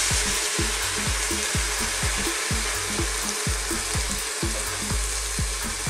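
Vinegar and soy sauce hiss and sizzle steadily in a hot pan around pork pata for a Filipino pata tim, loud and continuous with soft stirring knocks tapping along underneath.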